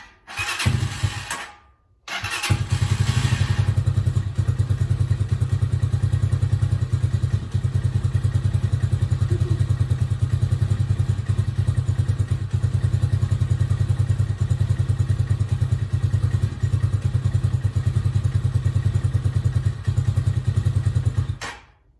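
A black RPS Magician 250cc motorcycle turns over with a brief crank and stutter, then catches and settles into a loud, steady, close idle that runs uninterrupted for about twenty seconds.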